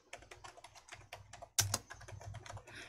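Fingers type a sheet name on a computer keyboard, a quiet, close run of quick irregular key clicks with one sharper, louder tap midway.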